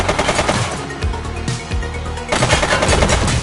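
Automatic gunfire from the police game The Precinct crackles in dense, loud bursts, with a short lull partway through before another rapid volley, close and unbroken by speech.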